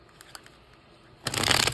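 Oracle cards are pushed aside on a table after a few faint taps, then a sudden close burst of rustling and sliding card noise fills the last half second.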